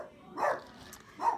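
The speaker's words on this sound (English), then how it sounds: "Barking dogs." Dogs give two short barks about a second apart, somewhat distant and moderately loud, with no talking over them.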